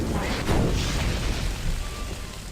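A fire spell strikes an enemy in Morrowind, a loud, dense roaring whoosh with a rumbling burst near the start that stays at full level for a couple of seconds.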